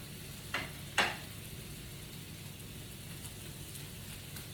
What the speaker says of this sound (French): Je fais revenir mes légumes, que naturellement je vais assaisonner.